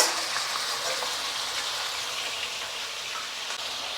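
Chicken pieces frying in hot oil give a continuous bright sizzle and hiss, close and fairly quiet, strongest at the start and then steady without talk.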